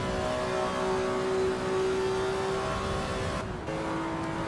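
A BMW racing car in the AC Evo racing game at about 250 km/h: a steady, close engine drone with a sustained whining tone, briefly dipping near the end as if shifting gear, then resuming.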